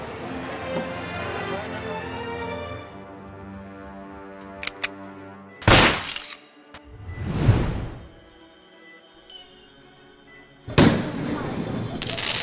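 A gunshot rings out in a Marathi village film scene, a sharp loud crack standing out against music, followed by a whooshing swell and another abrupt burst, with no talk over it.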